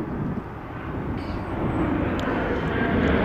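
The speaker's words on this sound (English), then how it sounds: "Another plane coming in to land." A plane coming in to land at a busy airport gives a low, steady engine roar that grows slightly louder, distant and continuous, with no talking.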